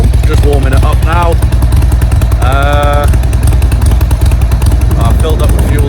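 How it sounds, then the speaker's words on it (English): A motorcycle engine warms up before a road trip, a steady loud rumble running continuously beneath a voice speaking throughout. "We've now got the bike kitted up, ready to go. Just warming it up now."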